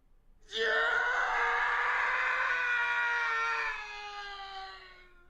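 A stock scream effect from the Phoenix Wright: Ace Attorney game, one long, loud shrill cry that starts abruptly, holds steady, then fades over about four seconds with no talk.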